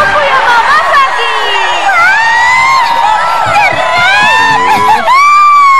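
A crowd of fans at an animated music stage screams and cheers for a singer, loud, high-pitched and continuous with overlapping whoops.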